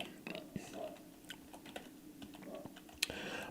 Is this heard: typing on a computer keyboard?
yes